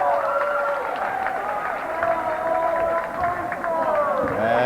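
Steady crowd noise from a girls' high school basketball game fills the gym, a continuous roar of cheering and voices with no letup, while people talk over it.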